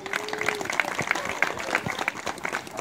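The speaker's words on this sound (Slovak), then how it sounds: "Potlesky na mieste" Audience applause at the opening of a children's playground, a steady patter of many hands clapping at a moderate distance, with faint voices mixed in.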